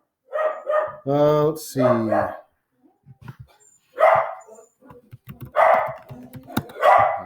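A pet dog barks and yips excitedly indoors at people walking their dogs outside, a few loud bursts early, then a person speaks briefly between further barks.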